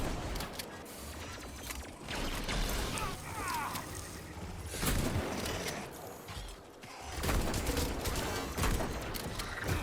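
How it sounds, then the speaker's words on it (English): Enemy gunfire in the video game Atomic Heart rattles in bursts of rapid shots mixed with mechanical clanking and combat effects, moderately quiet and dense throughout. "something that's shooting at us from up there as well"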